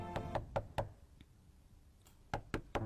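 Knuckles rap on a bedroom door early in the morning: four sharp knocks in quick rhythm, a pause with faint ticks, then three more firm raps, close and distinct against a quiet room.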